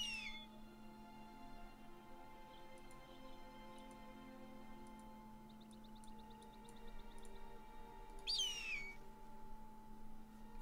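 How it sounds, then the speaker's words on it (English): A bird calls in the medieval strategy game Battle Brothers: faint, brief chirps and twittering trills over a steady low ambient drone, with a louder sweeping call near the end, and no voices. "I love that bird in here."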